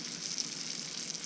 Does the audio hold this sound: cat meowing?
no